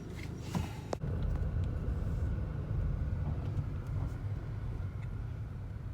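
A car carries its occupants along a road on a short delivery run, heard from inside as a steady low engine and road rumble with a brief knock near the start and no talking.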